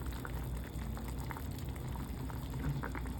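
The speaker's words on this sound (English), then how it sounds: "I put it the areas where it's boiling the most" Soup with golden beets, some still frozen inside, bubbles and boils in a pot with soft continuous gurgling and popping at close range, no talking.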